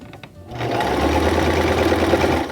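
Sewing machine back-stitching on a shower curtain, a steady close whirring hum that starts after a brief pause and runs evenly before stopping, loud and without talk.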